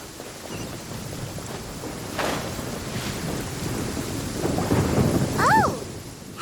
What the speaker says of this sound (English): Where is the storm headed?